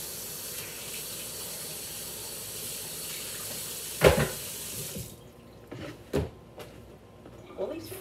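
Water running from a tap into a kitchen sink, a steady wash that stops midway, followed by a few clunks and knocks of items being set down.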